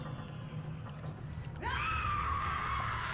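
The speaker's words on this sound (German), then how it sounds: "Bitte nicht schreien, ich habe dir nichts gemacht." A creature in BioShock lets out a sudden shrill, wavering scream partway through, loud and sustained over a low rumbling game ambience.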